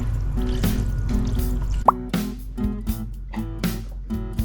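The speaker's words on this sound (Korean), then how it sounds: "탄산수가 얼음과 함께 뽀글뽀글 하는 게 벌써부터 시원해 보이죠?" Sparkling water fizzes over ice cubes made in a Daiso ice tray, with close, crisp plops, pops and drips scattered irregularly over a steady, humming tonal background.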